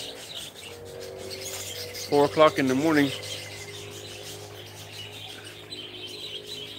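Marcy, a pet bird, gives a short burst of chirps and warbling calls in the early morning, fairly close, between stretches of quiet room sound, with a person speaking around it.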